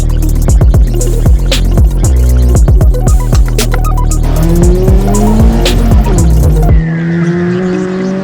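A Ford Fiesta ST150 pushed hard on a B road, its engine climbing and dropping through the revs while the tyres scrub with a brief rubbery squeal, close and loud, with no talking.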